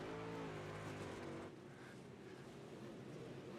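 IMCA modified race car engines roaring at Lernerville as a car comes hard out of turn four down the front stretch, a loud continuous engine drone that shifts pitch as it passes.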